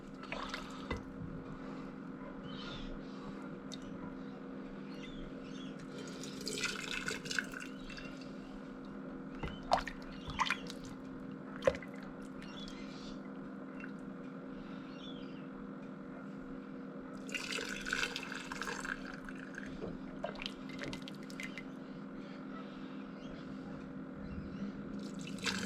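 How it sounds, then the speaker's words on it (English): Bone broth ladled slowly through a double set of strainers into a jar: soft trickles, drips and pouring splashes in scattered bursts over a constant background hum, close but fairly quiet. "I'm going to double strain that liquid into this jar. I'm just going to ladle it in slowly with a ladle."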